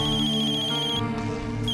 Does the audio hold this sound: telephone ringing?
yes